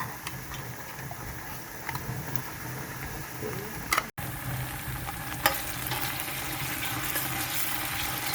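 Tomato puree fries in a deep pot for Nigerian party jollof rice, a steady close sizzle and bubbling with occasional stirring clicks and a brief clatter midway.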